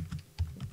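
Quick keystrokes clatter on a computer keyboard, about three or four distinct taps in under a second, close and moderately loud with no talking.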